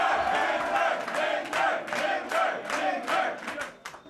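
Rally crowd at a Geert Wilders Freedom Party event chanting in rhythmic unison, with regular pulses of shouted voices repeating roughly every half second, moderately distant and steady.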